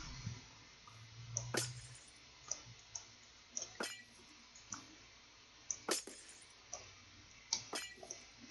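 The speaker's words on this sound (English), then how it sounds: "We are able to cut through glass." Glass blocks being cut in Minecraft with the Mine & Blade Battlegear 2 mod: a series of sharp, bright breaking clinks at irregular intervals, each a short crisp shatter over a quiet background, no voices.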